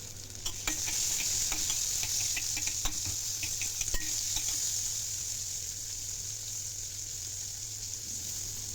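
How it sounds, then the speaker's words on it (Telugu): Onion fries in oil with cumin and mustard seeds, giving a steady sizzle with scattered crackles and pops early on that thin out into a smoother hiss toward the end. "ఇప్పుడు ఇంకా ఉల్లిగడ్డ కూడా వేసుకున్నాను. ఇది కూడా పచ్చివాసన పోయే వరకు వేపించుకున్నాను."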